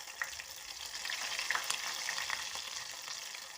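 Meatless cutlets frying in a pan, a steady dense sizzle with small crackling pops throughout, close and alone with no talking.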